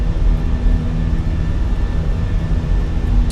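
Airbus A320 jet engines spool at takeoff power in a flight simulator, a loud steady broadband roar with a faint whining tone running throughout, with no voices.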